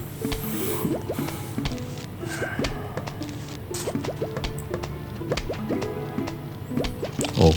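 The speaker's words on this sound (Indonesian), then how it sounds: "jamur kecil yang berwarna ungu, mushroom, yang menembakkan gelembung-gelembung berwarna ungu yang cukup efektif ini untuk menghalau zombie" Purple mushroom plants in Plants vs Zombies fire rapid little bubble shots in a steady popping, squishy patter, layered over looping game music with frequent short plinks and drips.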